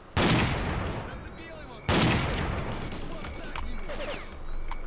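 Two loud, booming shotgun blasts about two seconds apart, each with a rolling tail, in the S.T.A.L.K.E.R. Clear Sky video game, with fainter game noises between.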